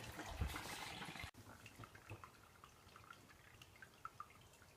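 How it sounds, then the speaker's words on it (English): Beer wort dripping and trickling as brewing grains are strained into a fermentation vessel, quiet and close, with a brief splash followed by scattered irregular drips. "just keep going, straining all the grains until you get about 10 litres of liquid"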